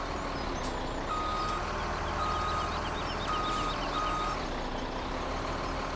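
A truck backing up in Farming Simulator 17 gives off a steady, repeating reverse beep over a constant engine drone, loud and continuous with no talking.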